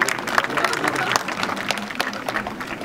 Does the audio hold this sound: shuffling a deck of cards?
no